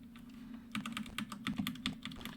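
Rapid, irregular clatter of computer keyboard keys being typed on, close and fairly loud, bursts of keystrokes over a steady low hum with no talking.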